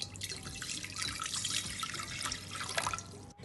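Two cups of water pour into a milk pot for baklava syrup, a steady close splashing trickle that runs for several seconds before stopping.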